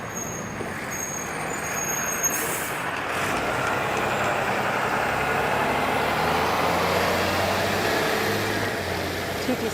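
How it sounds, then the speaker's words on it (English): A TTC work truck with air brakes rolls past on a Toronto street at night, a broad heavy engine rumble swelling and holding steady, with a brief sharp hiss of air brakes early on. "TTC work truck there."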